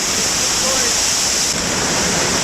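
Water rushing steadily down a creek in wet Tasmanian bush, a loud, dense, continuous hiss and roar right at hand with no pauses and no voices.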